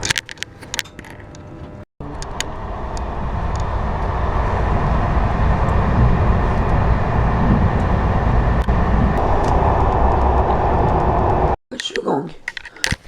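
Steady rumbling train noise fills most of the stretch, a loud continuous low roar with mechanical rattles, broken by brief gaps near the start and end where voices are heard.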